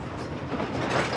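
A freight train rolls along railway tracks that run from southern Africa to Congo and Zambia, its wheels giving a faint, muffled rumble and rattle for a brief moment.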